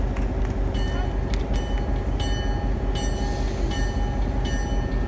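Diesel locomotive running on a turntable, a continuous loud engine rumble with metallic clanks and squeals, and a voice speaking over it.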